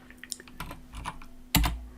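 Fingers typing on a computer keyboard while working in AutoCAD: a handful of light, scattered key clicks close by, ending in a louder thump as a key is struck harder.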